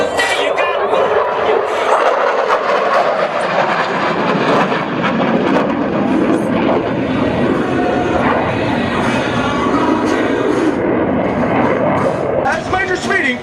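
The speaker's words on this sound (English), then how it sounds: "As Major Speeding passes show center, he will apply full afterburner and accelerate the aircraft into a near vertical climb" Loud, continuous roar of an F-16 fighter jet at an air show, passing show center with full afterburner as it pulls into a near-vertical climb. The broadband thunder holds steady throughout, with crowd or commentary voices partly mixed beneath it.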